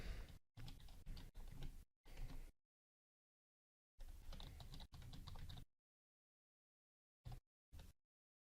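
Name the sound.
typing a password on a computer keyboard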